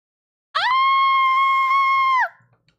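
A single long, loud scream from a character in the video game Virche Evermore, rising sharply, holding steady for nearly two seconds and then trailing off, heard alone.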